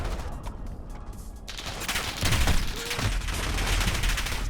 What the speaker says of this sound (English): He shot me through my teammate, didn't he?